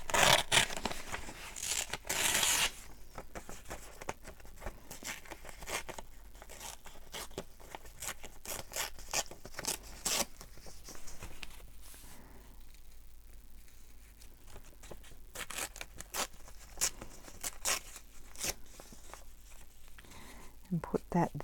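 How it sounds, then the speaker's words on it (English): Paper is torn for a craft project, with a few rough ripping bursts near the start, then quieter handling, rustling and scraping, under soft talk throughout. "I might like to tear a bit of this."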